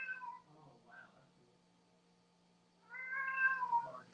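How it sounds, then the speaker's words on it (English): A cat meows to be let in, two short calls at the start followed by a longer, louder drawn-out meow near the end, close by with quiet gaps between. "I'm gonna let this cat in."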